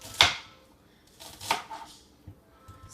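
A knife chops an onion into small pieces on a cutting board, producing a few sharp, separate cutting thumps spaced out over a quiet background.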